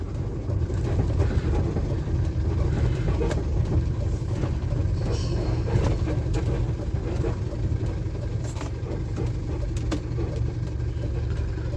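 A vehicle's engine keeps running while parked at night on a forest ghat road: a steady, close low rumble that continues unchanged throughout, with no talking.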